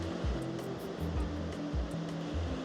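Ocean surf washing onto a shore on a clear day with distant mountains, a steady broad wash of waves with low rumbling surges rolling in every second or so, no voices.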